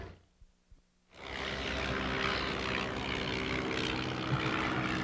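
An antique propeller airplane engine, a French trainer at an airshow, starts up after a near-quiet moment and settles into a loud, steady drone that holds close and even.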